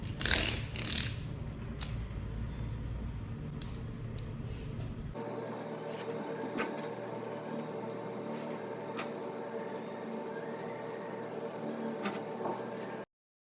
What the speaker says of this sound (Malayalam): Guys, let's practice abacus.